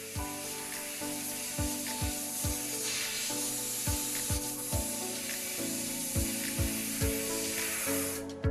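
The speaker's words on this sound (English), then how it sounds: "soak it in thinner and blow compressed air on the mesh area" Compressed air blasts hiss and spray across a strainer's mesh after it has soaked in thinner, heard as a continuous rushing hiss broken by repeated short knocks or taps.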